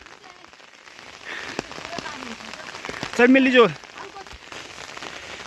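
Steady rain on a hillside in the mountains keeps up a soft, even patter, with a brief burst of louder sound in the middle and a few words spoken over it.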